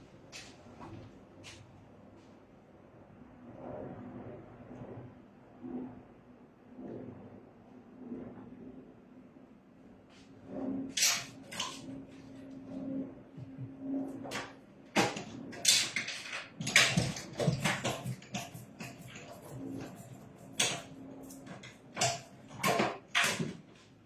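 A paper craft machine is cranked by hand as a taped card for a mini album feeds through, giving soft mechanical clicks and creaks that grow louder and busier partway through, with no talking.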